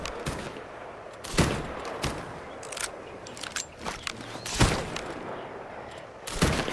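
Pistol shots at targets during a timed shooting challenge in Assassin's Creed Black Flag: sharp, irregularly spaced cracks, several in quick succession, over a constant ambient background.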